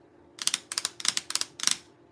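Tarot cards shuffled in several quick riffling bursts, five crisp rattling flurries close by in steady rhythm with brief pauses between, over a quiet background.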